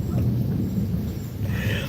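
Thunder rumbling through a Florida lightning storm, a heavy low roll that fills the whole moment, with rain hissing faintly beneath it and no one talking.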